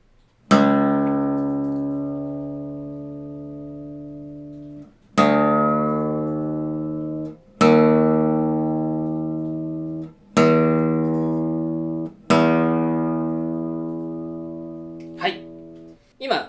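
Low E string of an acoustic guitar plucked repeatedly while being tuned with a clip-on tuner, five deep, resonant single notes, each left to ring and decay for a few seconds before the next, close up and unaccompanied.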